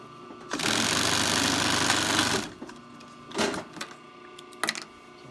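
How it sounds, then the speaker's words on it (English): A sewing machine runs in one steady, close burst of about two seconds, stitching flat-felled side seams on a wool shirt cut from a six-point Hudson Bay blanket, followed by a few short handling rustles. "we're going to fold them back out on themselves and sew them flat so that there's no bulk"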